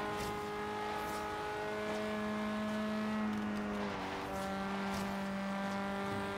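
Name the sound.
race car engine at full throttle in 6th gear, video game Forza Horizon 3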